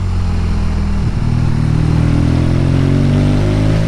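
A BMW R nineT motorcycle pulls hard out of a tight third-gear corner at about 30 mph, its engine a loud, close, steady roar with pitch rising as it accelerates.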